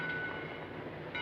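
A train idles at a station in a 1949 film scene, a steady low rumbling hum with faint hiss, continuous and moderately close, with no clear horn or clatter standing out.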